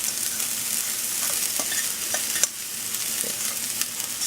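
TVP being stirred in a hot frying pan: a steady, loud sizzle with scattered scraping and tapping of the utensil against the pan throughout, and no voices.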